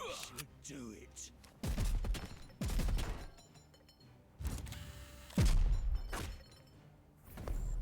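Gunshots ring out in a video game, a series of sharp, loud blasts spaced about a second apart with some clustered bursts, under quieter stretches and faint background.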